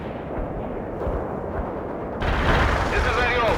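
Cluster bombs burst in World in Conflict gameplay, rumbling low blasts that swell into a louder, harsher barrage partway through, with voices talking over the explosions.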